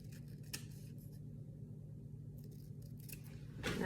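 Scissors snip through paper while cutting out a small piece for a collage calendar book, a few soft, quiet cuts close by with no talking.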